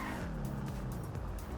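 Skidding tires and a crash from a car in GTA 5 Online, pulling away from a car wash and swerving across the road; a continuous loud engine drone with scraping squeals and a few sharp impact bursts, no talk.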